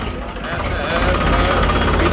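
A tractor engine idles nearby with a steady low rumble, while someone speaks over it throughout.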